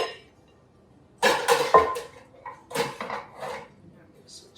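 Spoons clink against a bowl while mixing noodle kugel in a home kitchen, giving a few bright knocks and scrapes in short bursts between pauses.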